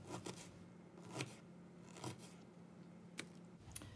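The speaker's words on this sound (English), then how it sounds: "we're cutting up lots of the lines of the onion" Knife finely dicing an onion on a cutting board, a few quiet, close crisp chops and crunches spaced irregularly over soft background noise.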